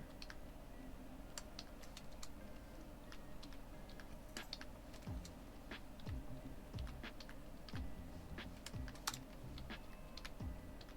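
A computer keyboard clatters with quiet, irregular keystrokes and scattered clicks, alone and fairly close.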